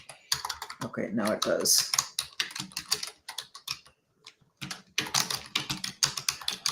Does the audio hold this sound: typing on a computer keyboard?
yes